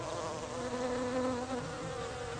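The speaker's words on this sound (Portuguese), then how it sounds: "Existem várias espécies de abelhas, moscas, vespas, criaturas assim que vão pousar ali em busca do néctar." Bees, flies and wasps buzz around a flowering climbing plant in a garden, a dense, continuous drone of wings with overlapping tones, close and steady throughout.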